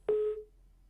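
A telephone line drops during a live phone call, giving one short, steady busy-tone beep that starts abruptly and then fades into near silence.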